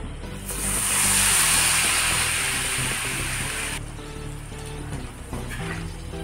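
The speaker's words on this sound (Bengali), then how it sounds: "মিডিয়াম আঁচে ভেজে নিতে হবে মুচমুচে করে।" Snacks made from egg and rice flour fry over medium heat until crisp, giving a steady, loud hiss of bubbling oil that holds close by and then eases a little partway through.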